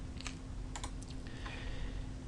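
Sharp mouse clicks and light key taps at a computer while working in CAD drafting software, a few quick irregular clicks close up over a steady low electrical hum, with no talking.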